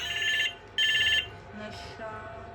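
A mobile phone ringtone chimes in two bright, repeating bursts, moderately close and fairly quiet, with faint room noise between the rings and a little soft talk afterward.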